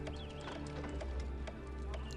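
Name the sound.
horses in video game Poseidon: Master of Atlantis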